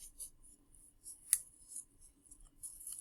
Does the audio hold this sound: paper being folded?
yes